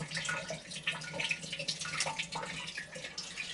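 Water trickles steadily down a DIY hydroponic grow column on a timed pump cycle, a continuous bright splashing and dribbling with small drips, fairly close and alone.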